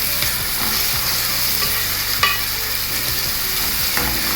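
Curry leaves and chopped onion fry in hot oil for a fish head curry, giving a loud, continuous sizzle with occasional spoon scrapes and taps against the pan.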